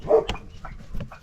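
A dog named Gus gives a single short, close, loud bark, followed by a few softer yips and whimpering noises.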